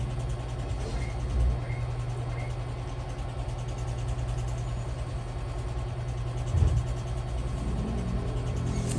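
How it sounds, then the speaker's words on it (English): The cooling fan of an ASUS X515E laptop under repair spins with a steady, low whirring hum, broken by a couple of brief soft knocks. "There's the fan spin"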